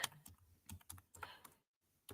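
Quick bursts of typing on a computer keyboard, close and quiet, with irregular clusters of key clicks separated by brief pauses.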